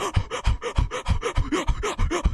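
A voice imitates Bowser's heavy panting from the Mario movie: a run of rough, rhythmic breaths, about a dozen quick in-out gasps, close and fairly loud, with no other sound.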